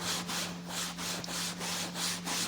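A pad rubs back and forth over a classic car's leather seat to strip off the old dye, making a steady, soft scuffing hiss in repeated strokes, fairly quiet, with no talking.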